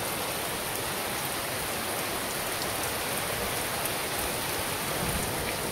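Steady rain pours onto the roof of a small house, a dense, even hiss of falling water that stays constant throughout without any voices.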